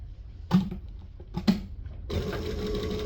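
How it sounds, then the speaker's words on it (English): A sewing machine stitches along the edge of an apron with a normal stitch length, two short bursts and then a steady, close, whirring run of the motor. "we're just going to stitch 1/8 of an inch from the edge"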